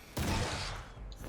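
Shotgun fired in Vampyr against a hulking werewolf: a single heavy, close report with a broad burst that tails off slowly into a low rumble, standing alone without talk.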